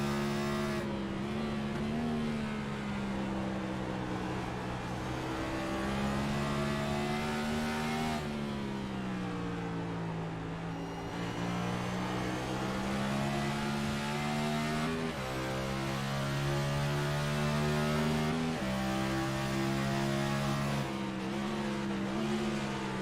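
A NASCAR-style race car engine heard onboard the 31 car in iNascar racing at Watkins Glen, droning loudly throughout with repeated rising revs and shifts as it accelerates through gears and corners.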